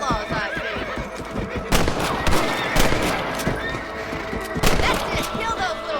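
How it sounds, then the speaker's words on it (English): Rifle shots at rabbits in the Western video game Red Dead Redemption, several sharp cracks scattered among whinnying horses, clip-clopping hooves and in-game voices. "Get your rifle out. It's about time these little thieves met their maker."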